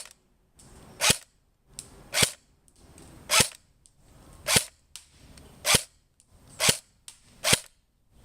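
An Echo 1 MTC 2 airsoft gun fires outdoors, giving eight sharp, evenly spaced snapping shots roughly one second apart, each preceded by a short mechanical whir, loud and close with nothing else heard.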